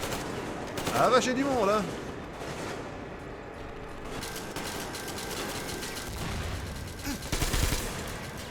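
Gunfire in the video game Metro Exodus, bursts of shots crackling through a dense, noisy battle scene, with someone talking in French over the shooting.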